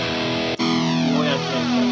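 Electric guitar played through a NUX MG30 multi-effects unit on its Mesa Boogie amp model: a sharp distorted strum with a brief cut, then a thick sustained chord ringing out loud and close.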